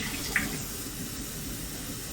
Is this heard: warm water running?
yes